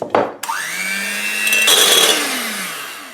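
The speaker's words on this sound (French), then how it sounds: "El famoso mixeur. Donc on va commencer à remuer le sucre avec les jaunes d'œufs" An electric mixer switches on and whirs at a steady, high-pitched pitch while it beats sugar with egg yolks in a bowl. The motor tone shifts as it works and then trails off near the end. It sounds loud and close.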